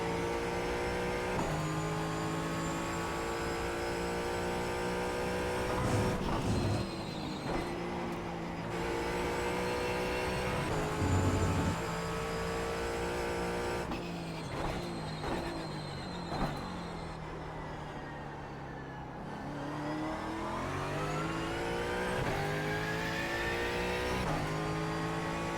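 Ford Mustang GT4 engine lapping Sonoma in the iRacing simulator, a continuous loud, close engine note rising and falling with throttle, downshifts and corner exits.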